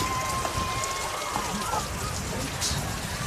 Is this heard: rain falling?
yes